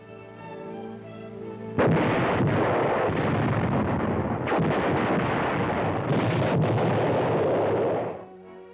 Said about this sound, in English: Our ballistic range provides valuable data on performance of explosives for the Army's big guns